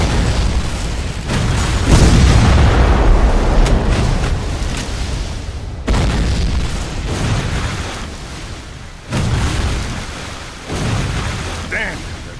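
Cannon fire in History: Civil War Secret Missions, a series of loud, close booms spaced a few seconds apart, each with a rumbling decay, amid battle noise and shouted voices.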